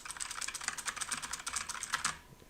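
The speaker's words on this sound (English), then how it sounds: "See me typing." Rapid, steady clicking of keys on a computer keyboard, close and fairly quiet, a continuous run of taps with no talking.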